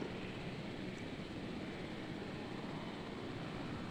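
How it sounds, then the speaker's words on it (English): Helicopters arrive in the dinosaur park game Jurassic World Evolution, a steady, dense rotor-and-engine roar that holds unbroken at a constant level throughout, with no voices. "Alright, so the choppers are arriving."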